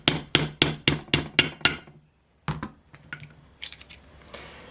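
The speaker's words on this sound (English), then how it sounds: "then just tap this in place" A bearing for an OS FS40 engine being tapped into place: about seven sharp, evenly spaced metallic knocks, close and crisp, then a pause and a few lighter, irregular taps and clinks.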